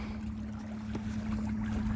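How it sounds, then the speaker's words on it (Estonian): An electric-powered boat glides along the Kasari river, its motor giving a steady low electric hum with soft water and wind noise around it, close and even. "Me kulgeme Kasari jõel elektrijõuga."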